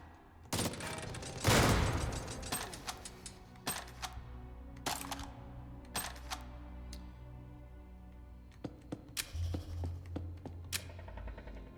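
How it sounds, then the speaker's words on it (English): A chain gun fires in the video game Jupiter Hell with rapid mechanical bursts and clattering shots. A dense, loud volley comes early, followed by scattered sharp shots and clicks over a low droning ambient hum. "This chain gun is going to be fantastic."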